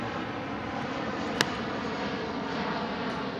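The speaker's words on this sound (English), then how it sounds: "there's a plane going over" An airplane passes overhead outdoors on a golf course, a steady broad engine roar holding at moderate level for the whole stretch, with one brief sharp tick partway through.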